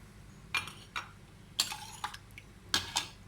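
A steel cooking pot is handled and set down in a kitchen. There are several sharp metallic clinks and knocks spread out over a few seconds, fairly close and with no talking.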